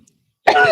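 A single sudden, harsh cough breaks the silence, loud and close, rough and throaty, cutting off abruptly.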